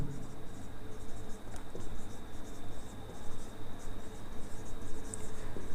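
A pen or marker scratches across a writing surface during a basic maths lesson, with a steady run of short strokes and taps under a faint background hum.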